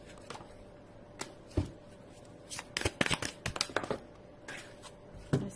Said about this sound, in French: J'ai une carte qui est tombée. Je ramasse.